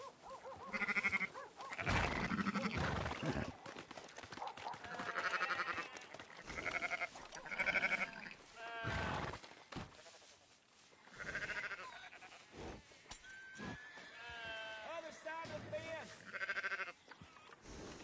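Sheep bleat repeatedly in Red Dead Redemption 2 while being herded to the auction, with several loud overlapping calls that come and go across the scene and game ambience between them.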